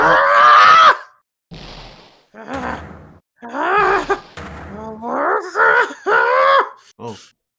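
Von Karma from the Ace Attorney game lets out a series of loud, drawn-out anguished screams and groans in bursts, separated by short silences.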